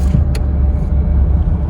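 A car cruises along the Million Dollar Highway, a mountain road, with a loud, steady interior engine and road rumble filling the whole moment and a faint brief click near the start.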